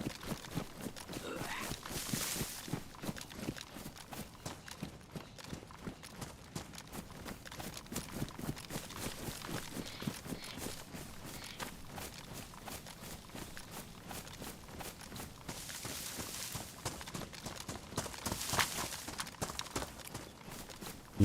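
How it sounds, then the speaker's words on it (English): Footsteps in the survival video game DayZ, set in Chernarus: a steady, quiet rhythmic run of crunching steps continuing throughout, with a few brighter swishes over a low background. "Sound like another pair of footsteps."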